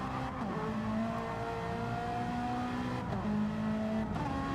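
A Ferrari race car in Gran Turismo 7 screams steadily at high revs, with sharp gear changes breaking the tone a few times, loud and close throughout with no talk.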